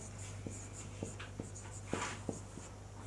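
Chalk tapping and scratching on a board during a Sanskrit lesson, a series of short evenly spaced strokes and taps with brief scraping, fairly close over a steady low hum, no voice during it.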